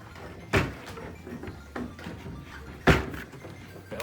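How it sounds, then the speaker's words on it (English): Golden Tee arcade cabinet control panel being slid out like a drawer, two sharp knocking thuds with softer rattles and scrapes between them, close and fairly loud. "once you undo them, it comes out kind of like a drawer"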